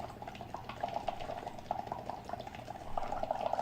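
Air blown through a straw into a glass of water, bubbling steadily in short gurgling bursts, close and moderately loud, with no talking over it.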